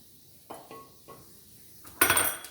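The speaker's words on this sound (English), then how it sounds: "we're going to take this shrimp out" Cooked shrimp are lifted from a skillet with a utensil, giving a few light clinks against the pan, then a louder burst of scraping and sizzle near the end.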